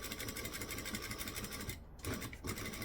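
Sewing machine stitching down the outer edge of the binding on a utility belt, a steady fast mechanical whir running nearly throughout with two brief pauses near the end.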